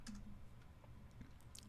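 Quiet typing on a computer keyboard, a scattering of soft key clicks at an uneven pace against a faint hum, with no talking.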